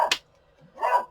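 A neighbour's dog barks on an evening walk: two short bursts, a sharp yip right at the start and a longer, fuller bark near the end, moderately close, with a quiet gap between them.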